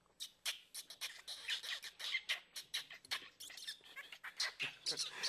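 Squawks and chirps imitating macaws and parakeets for a forest story are made by hand. They come as a rapid, continuous string of shrill, squeaky bird-like calls, close and moderately loud.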